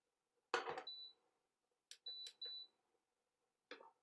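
Electronic beeps from an electric hob being switched on in a home kitchen, a few short chirps and tones spread out with quiet gaps between them.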